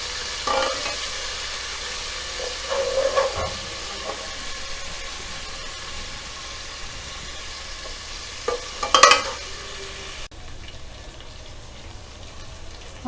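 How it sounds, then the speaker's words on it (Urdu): Garlic ginger paste frying in a pan while being stirred: steady low sizzle with scraping spoon strokes, two louder clatters near the start and one sharper clank later, then a quieter tail. "یہاں پہ میرے پاس 1 ٹیبل سپون لہسن ادرک کا پیسٹ ہے، اس کو ڈال کے اچھے سے بھون لیں گے"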